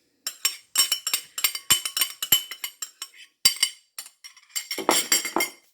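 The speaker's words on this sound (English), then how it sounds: "I just needed to spread it a little bit more with the back of my spoon." A metal spoon repeatedly taps and scrapes against a pan while spreading olive oil over focaccia dough, producing a close, uneven series of bright clinks and scrapes separated by short pauses.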